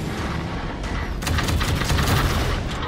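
Rocket and weapon fire in the shooter game Halo 5: Guardians, a dense, continuous roar of blasts and gunfire that swells louder partway through, with no talk.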